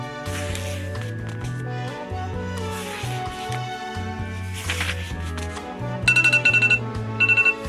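A timer alarm beeps in rapid repeated bursts near the end, bright and fairly loud over steady background music, marking the close of a reading sprint.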